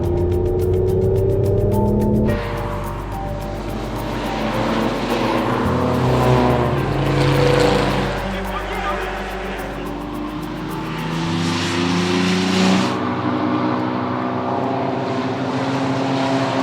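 Race cars in the Tour Auto road race roar past with engines droning loudly, the pitch shifting steadily as they approach and pass, continuous and close, with no talking.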